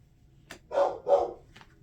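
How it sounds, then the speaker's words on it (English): A pet dog barks twice in quick succession indoors, fairly close and loud, with a couple of softer yips around the barks and no speech. "Sorry, my dog's barking at somebody."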